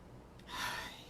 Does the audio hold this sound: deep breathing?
yes